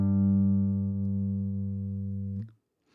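A single classical guitar note G, plucked on the sixth string at the third fret, rings steady and clear for over two seconds, then is cut short and falls silent.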